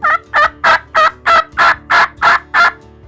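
Nine evenly spaced, loud, rasping yelps from a turkey mouth call imitate an aggressive hen turkey, each note sharp and close, repeating in a steady, quick rhythm.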